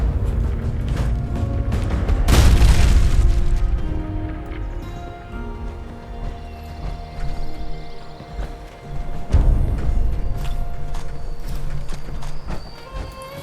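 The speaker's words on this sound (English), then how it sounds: "Firing a missile" A missile launched in the Fallout 76 video game, with a loud broadband blast and rumble near the start, then ongoing game noise and a second sharp boom later.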